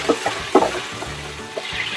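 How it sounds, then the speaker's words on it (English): Oil sizzles steadily in a hot pan while food is stirred, with a few brighter spits and pops standing out close up. "we're gonna get a nice sizzle. Give it a swirl. Let that go for a bit. Let it splatter a little bit"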